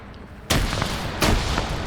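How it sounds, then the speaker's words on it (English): Two loud, sharp bazooka blasts in a WW2 combat video game, the first about halfway in and a second a moment later, each with a booming low rumble over steady battlefield noise. "We just heard a bazooka launch that might have hit the Stug."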